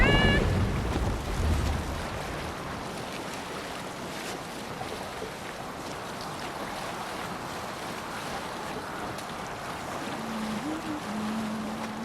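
A sailing ship at sea in the video game Assassin's Creed Valhalla, heard as steady washing waves and wind around the hull, with a short tonal sound near the end.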